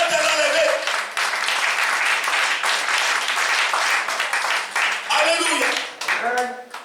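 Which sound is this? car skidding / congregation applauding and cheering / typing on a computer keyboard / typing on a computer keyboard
congregation applauding and cheering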